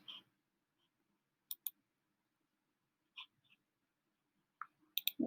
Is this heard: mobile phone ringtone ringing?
no